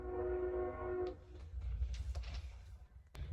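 A train passes near a house, with a sustained horn blast up front giving way to low, distant rumbling and rail clatter, all fairly faint and with no voice heard.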